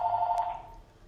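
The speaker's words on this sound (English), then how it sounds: "Sorry about the phone ringing." A telephone bell rings in a home office, a steady high electronic trill in short repeated bursts that fades slightly toward the end, with no one speaking.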